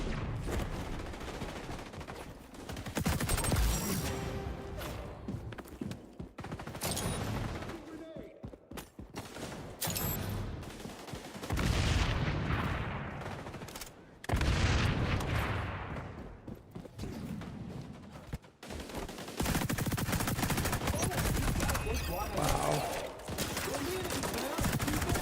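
Rapid bursts of gunfire from the video game XDefiant crackle through most of the stretch, dense and loud in repeated volleys, with brief lulls and a player talking over them.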